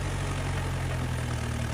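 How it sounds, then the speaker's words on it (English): A New Holland B95B excavator engine roars at a steady, loud, low-pitched drone, continuous and close with no voices. "The powerful New Holland B95B excavator roars loudly."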